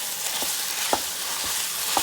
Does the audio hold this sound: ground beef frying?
yes